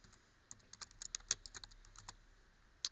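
Quick, irregular keystrokes on a computer keyboard while entering a file name, a light clatter of separate taps that are close and fairly quiet, with one louder key press near the end.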